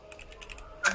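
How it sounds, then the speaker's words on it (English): Commands are tapped out on a computer keyboard in a quick run of light, close keystrokes, with one louder clack near the end. "while I'm typing in the commands"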